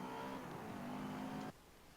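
An Audi race car engine accelerating in second gear in a Forza race, a loud, steady droning rev held close before cutting off abruptly into a quieter rumble.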